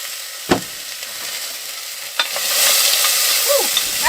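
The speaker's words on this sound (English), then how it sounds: "so I like to heat up the onions first" Onions are heated in a hot pan in a tiny home or RV kitchen, with a sizzle that rises and thickens partway through, plus a couple of sharp utensil knocks and scrapes, close up.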